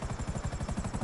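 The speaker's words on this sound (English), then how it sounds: "helicopter." A helicopter in the video game GTA Online gives off a steady, rapid rotor chop, a continuous rhythmic thudding beat over a broad engine whine that holds at an even loudness throughout.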